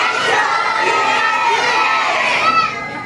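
A crowd of children at a birthday surprise yells loudly together, a dense sustained burst of overlapping shouting voices that carries through the whole moment.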